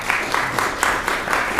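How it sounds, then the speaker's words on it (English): Applause and cheering from a crowd in a county commission meeting room, steady dense clapping with faint pulsing swells, moderately loud and continuous for the whole moment. "So you've got all this cheering and clapping in the room"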